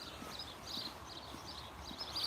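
Donkey hooves clip-clopping at a steady walking rhythm, fairly faint and slightly distant, over outdoor background noise, with no talking.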